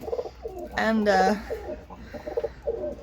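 Pigeons coo in a loft housing young birds around weaning age, with soft repeated coos heard close by and a voice speaking briefly over them.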